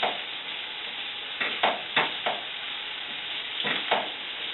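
Frozen bell pepper fries with onions in a pan, a steady close sizzle broken by a few short bursts of stirring scrapes, no speech.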